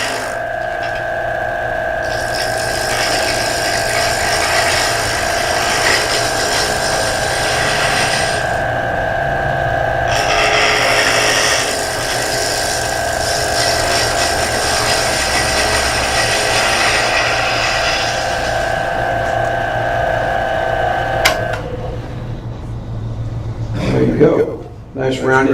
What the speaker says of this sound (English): The one beautiful thing about a skew chisel, you'll get a really clean cut when you do it right.